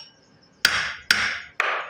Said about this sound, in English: then you're going to take a hammer and very lightly